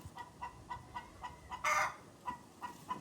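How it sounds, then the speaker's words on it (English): Chickens inside a coop on a farm in Ghana, with a soft repeated clucking pulse about every third of a second and one loud, brief burst of flapping wings near the middle. "The bird is in there flapping around."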